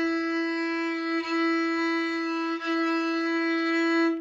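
A violin sustains a steady E note bowed with the first finger on the D string, one long even tone with two brief dips where the bow changes direction, played alone with no voices.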